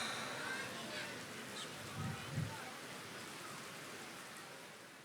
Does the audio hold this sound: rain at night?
yes